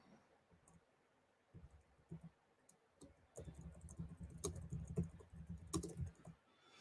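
Fingers type on a computer keyboard, starting with sparse clicks and building into a dense, irregular run of close, quiet keystrokes with no voices.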